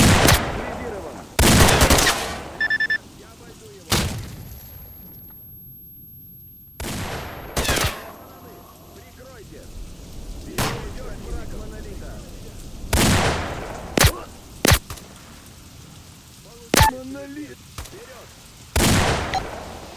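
Sharp gunshots from a shotgun-wielding shooter in the video game Stalker Narodnaya Solyanka ring out in scattered single bursts across the whole stretch, loud and punchy, with brief quiet gaps and a few faint vocal sounds between shots.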